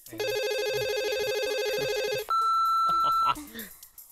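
A telephone in the video game Conker Live and Reloaded rings in a loud, steady electronic trill for about two seconds. A higher sustained tone follows, and a voice talks faintly underneath.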